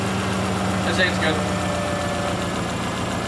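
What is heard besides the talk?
repaired car engine idling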